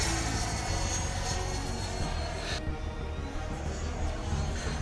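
A Freewing Avanti S RC jet flies overhead, a loud continuous whooshing roar of its electric ducted fan that shifts in pitch as it passes, steady and close with no voices.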